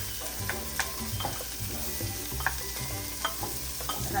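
Onions and garlic sautéing in a home-kitchen pan for sopas, a steady close sizzle with spoon stirs and scrapes scattered through, and a few clinks over the frying.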